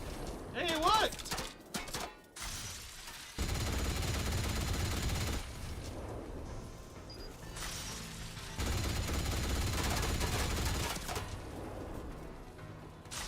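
Turret gunfire in Atomfall comes in two long sustained bursts of rapid shots, loud and close, with game sounds and a brief voice between them.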